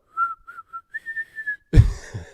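Someone whistles a short tune of several clear, breathy notes, shaky and close to the mic, followed by a loud thump or bump at the end.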